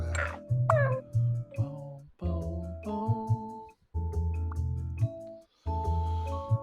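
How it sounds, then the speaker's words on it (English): An annoyed cat meowing repeatedly, a series of long, drawn-out complaining yowls with short gaps between them, loud and close. "That cat was annoyed."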